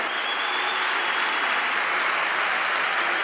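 A stadium crowd at a Paraguayan league football match claps steadily as a player is substituted on, a dense, even wash of applause that never lets up.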